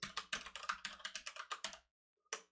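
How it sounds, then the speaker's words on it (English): Quick typing on a computer keyboard, a fast run of crisp close key clicks that stops briefly and then gives one last keystroke, with no talk. "if only I could type well"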